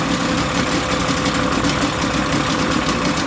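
A 20 hp Mercury outboard engine idles steadily and close by, a continuous rough mechanical drone with a faint knocking texture throughout, no talking.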